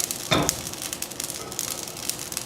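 Cumin seeds toasting in a pot, a steady close crackling sizzle with scattered pops and a brief louder burst of spattering early on.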